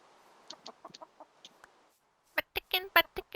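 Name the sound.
chickens clucking in the video game Minecraft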